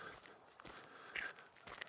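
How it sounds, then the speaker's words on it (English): Footsteps crunch along a rural bridleway at night, a few soft, evenly spaced steps close by in a quiet setting. "Walking down just a little back bridleway here, hence the different sound of my footsteps."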